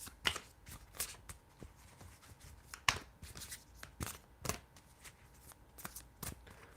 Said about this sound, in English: I'll be happy and honored to flip tarot card for you